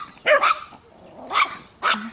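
Another dog barks in a home, three sharp, close barks spaced about a second apart, with a low growl trailing after the last one.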